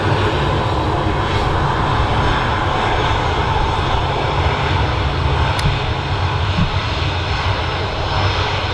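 A Virgin Atlantic Airbus A350-1000 taxis at Manchester Airport, its jet engines giving a loud, close, continuous roar that holds steady throughout.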